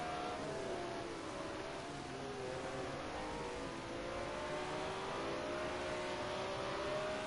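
The engine of a BMW M1 Procar racing car howls steadily at high revs during a Brands Hatch GP race, a loud, sustained tone that rises and falls with gear changes as the car corners.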